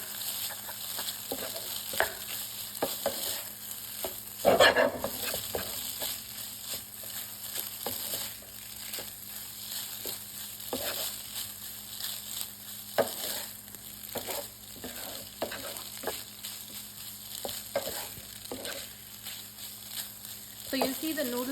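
Noodles being stir-fried and tossed in a hot pan, a steady sizzle with scraping and clattering of the utensil throughout, one louder clank near the start, continuous and close.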